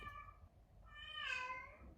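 A house cat meows twice, a short call followed by a longer, rising and falling one, fairly close and alone against a quiet room.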